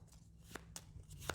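A deck of game cards being shuffled, a few soft, brief riffling flicks spaced apart, faint and close over a low background hum.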